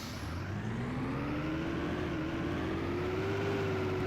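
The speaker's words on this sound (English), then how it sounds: "That gearbox is whirling." Bus gearbox whine in the OMSI 2 simulator on a Bowdenham route, a steady rising whirring tone over a low engine rumble, continuous and fairly faint with no talk.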